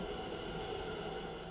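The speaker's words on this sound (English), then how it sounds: "Namma Metro is all set to give you a memorable ride on its underground route" Namma Metro train running on its underground route, a steady, dense rumble and rushing roar that stays constant throughout without any break.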